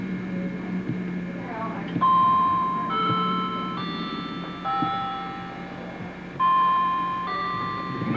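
Glass chimes sound in the background during a tour, a slow run of bright tones that overlap and decay one after another, with faint talking beneath them.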